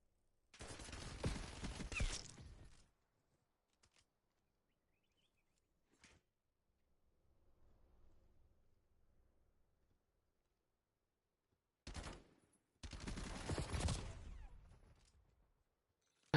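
Gunfire from the video game Black Ops 7 comes in two loud, dense bursts of rapid shots, with scattered single cracks and a faint rumble in the quiet gap between them.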